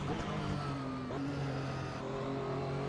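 A Porsche 911 GT1 race car with a sequential gearbox in Assetto Corsa, driven at Silverstone: a steady, loud engine drone with its pitch stepping up through gear shifts, with no talk over it.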